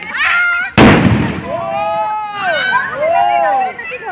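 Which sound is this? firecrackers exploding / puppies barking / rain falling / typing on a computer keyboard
firecrackers exploding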